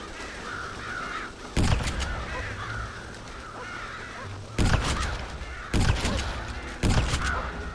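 Crows in Red Dead Redemption caw in a loud, close flurry, the harsh calls repeating in patches, with sharp gunshot bursts cutting in four times over the noisy game scene.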